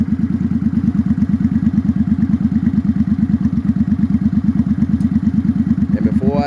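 A 2007 Suzuki Boulevard C50 motorcycle engine idling close by, a loud, deep, steady, even thumping pulse that holds for the whole stretch, with a faint high squeal near the end.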